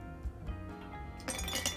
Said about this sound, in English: Add ice to your glass.